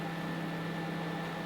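A microwave oven hums steadily while heating tares for fishing bait, a constant low drone with faint fan noise, unbroken and even for the whole moment.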